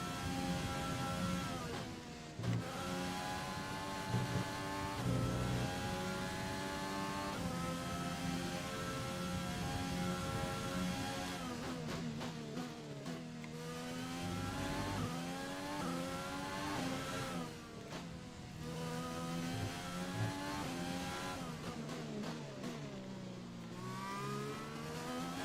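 Racing car engines in the F1 2020 video game scream and shift up and down in pitch as the cars accelerate, brake and pass, with a continuous, loud, layered whine throughout.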